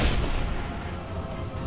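Cannon fire booming from hills above a battlefield, one heavy roaring blast at the start that rolls and rumbles away into a sustained low echo.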